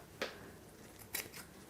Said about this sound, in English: I am going to be taking my scissors and kind of cutting away the excess fabric that I will not need for this